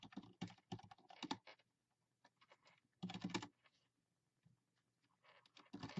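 Bursts of typing on a computer keyboard, quick clusters of key clicks separated by short pauses, close and fairly quiet with no talking.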